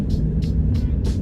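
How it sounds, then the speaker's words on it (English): A Ford F150 pickup with a single turbo, engine running at idle as a continuous low rumble, with a few brief airy hissing bursts repeating above it. "let the truck run for a couple minutes"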